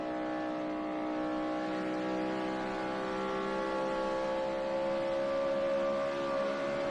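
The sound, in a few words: NASCAR race cars speeding around the track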